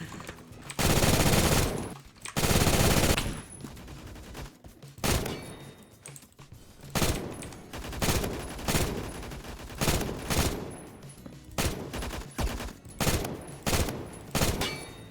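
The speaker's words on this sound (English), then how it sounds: "we're doing some long-range sniping with the MG3KWS" An MG3KWS machine gun fires in Roblox Phantom Forces, first in two long sustained bursts, then in a run of short, sharp bursts at a steady rhythm, loud and close with no talk.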